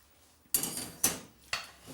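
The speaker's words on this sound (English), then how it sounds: "now all I'm going to do is upend the whole of this rice pan" A rice pan upended onto a dish of flaked salmon, heard as three sharp clunks of metal against crockery spaced about half a second apart, close and loud, with no voices.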